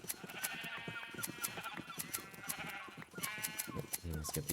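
Sheep in a video game bleat repeatedly in quick, overlapping nasal cries, fairly faint, with rhythmic clicking and game sounds underneath.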